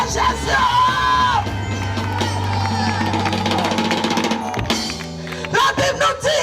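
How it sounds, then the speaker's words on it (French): A congregation at an evangelistic crusade in Mahou shouts out Alleluia Jesus together, a loud, sustained roar of massed voices that dips briefly and then surges back. "Est-ce que tu peux crier Alléluia Jésus?"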